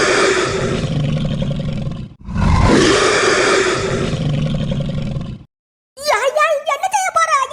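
A cartoon bull bellows in long, loud, roaring blasts, two sustained roars broken by a brief dip, followed after a short silence by a high animated voice talking.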